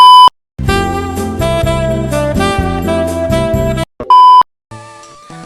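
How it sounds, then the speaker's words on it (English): Computer notification sounds: a loud electronic beep, then a stretch of music-like tones, another sharp beep and a softer trailing chime, all close and clear. "A bunch of notifications popped up and covered up some of the screen"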